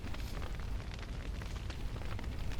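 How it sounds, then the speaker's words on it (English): Fire burning in The Witcher 3 video game, a dense crackling roar with rumbling low end, continuous and fairly loud with flickering bursts. "Are they gonna put the fire out"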